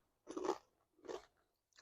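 Two separate loud crunching bites into Fritos Scoops corn chips loaded with warm Wendy's chili cheese dip, each bite a short burst of crisp chewing up close, with a pause between them and no talking.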